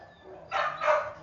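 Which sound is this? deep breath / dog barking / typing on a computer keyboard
dog barking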